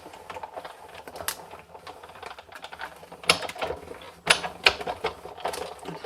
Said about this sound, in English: So I'm going to die cut first and then stamp after